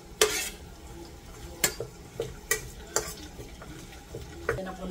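Ginger sautéing in a pan for Bicol Express, a steady low sizzle broken by repeated sharp scrapes and clinks of a utensil stirring against the pan, close and fairly loud.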